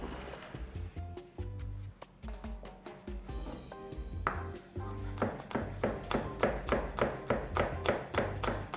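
A knife chops chili pepper on a kitchen cutting board, starting with irregular taps under background music, then settling into a steady, quick run of close, sharp knocks.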